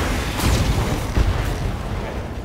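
A mech's weapon fires in the BattleTech video game, a heavy booming burst followed by a second thud, loud and close with a rumbling low end and no talk.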